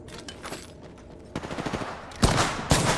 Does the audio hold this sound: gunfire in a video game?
yes